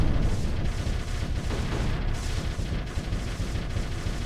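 Mark 7 weapons in the space strategy game Particle Fleet: Emergence keep firing in a dense, loud, continuous barrage of booming blasts with no pauses.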